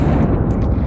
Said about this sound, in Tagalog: Flashbang out.